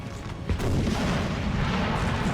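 A 12-pounder artillery crew fires in a Napoleon Total War battle: one sharp boom stands out from a dense, continuous roar of cannon fire and rumbling battle noise.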